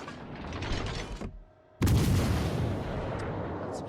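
A cruiser fires its naval guns in World of Warships Legends, with a burst of heavy mechanical gunfire, a brief pause, then a loud booming salvo that rumbles on.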